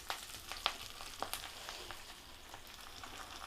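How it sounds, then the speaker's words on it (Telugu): Curry leaves are dropped into hot oil for pickle, giving a faint, steady sizzle with scattered sharp crackles and pops near the start, quiet and alone. "కరివేపాకు వేస్తున్నా."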